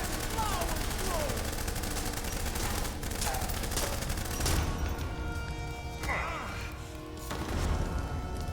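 Video game gunfire from Blues and Bullets erupts in rapid bursts and crashing impacts, dense and loud, with voices shouting over the shooting.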